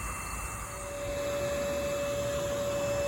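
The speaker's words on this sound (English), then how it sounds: "We have a disguised vacuum tube, sort of a set up false hole that they can go down into" A disguised vacuum tube set in a false hole beside a yellowjacket ground nest gives a steady, loud suction roar with a constant whine that holds unchanged throughout.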